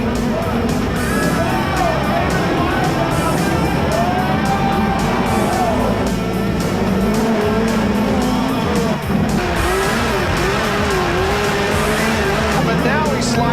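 Race cars run wheel-to-wheel in a 1996 oval race, their engines a loud continuous roar with shifting pitches and tire noise throughout, under an excited commentator's voice.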